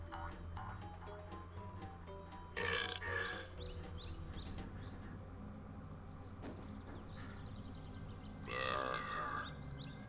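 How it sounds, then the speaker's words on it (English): In the finale of the PS1 game Spyro Year of the Dragon, Spyro lets out two short gurgling burps a few seconds apart over quiet background game music. "Ends on burps and Spyro shaking his head."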